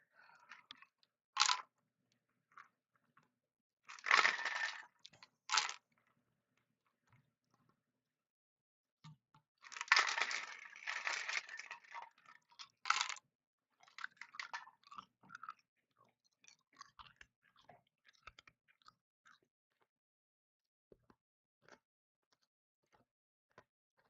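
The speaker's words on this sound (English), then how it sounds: "Sorry, I was chewing ice" Someone chews ice close to the mic, making sharp crunching bites in irregular bursts separated by long quiet gaps.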